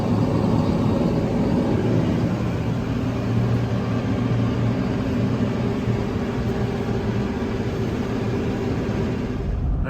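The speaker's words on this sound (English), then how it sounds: "we're wrapping up this first tow with the gooseneck trailer and the T495 on it" A 2022 Ford F350 pulls a gooseneck trailer loaded with a T495, a steady low engine drone and road rumble holding at an even, fairly loud level throughout with no talking.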